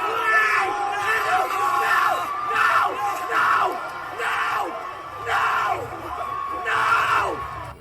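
Arena crowd at an NBA Finals game between the Pacers and Thunder, fans screaming and yelling right beside the team bench in loud, repeated surges of roughly a second each, close and continuous.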